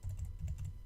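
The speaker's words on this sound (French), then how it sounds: "on va venir taper, juste après le P, on va venir taper 2 points" Soft, quick keystrokes on a computer keyboard, a short steady run of clicks heard close and fairly quiet.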